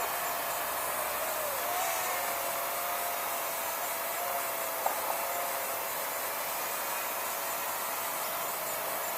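A JJRC H32GH mini quadcopter drone hovers in flight, producing a steady, fairly quiet broadband whir and hiss of small propellers with a faint tonal whine, continuous throughout with no talking.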